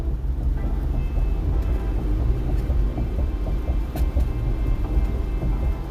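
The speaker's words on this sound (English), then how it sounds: "there's a storm around me" Outdoor storm rumble, a steady, deep low roar that rolls on without a break for several seconds, broad and moderately loud with faint scattered crackles above it.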